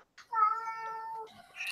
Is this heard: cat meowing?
yes